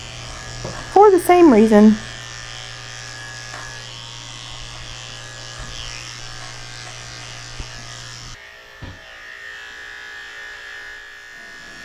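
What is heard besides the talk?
electric dog clipper with 7 blade shaving dog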